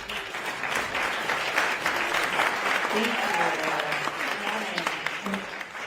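Steady, dense audience applause fills a meeting room, sustained and fairly loud for several seconds as a crowd welcomes a speaker at a public meeting.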